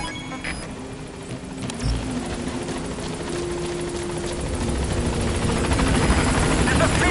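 A helicopter in Metal Gear Solid V chops steadily and close, its rotor roar holding constant and slowly growing louder as the engine drones on without a break.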